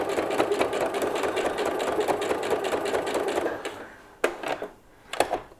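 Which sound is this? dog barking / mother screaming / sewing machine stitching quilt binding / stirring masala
sewing machine stitching quilt binding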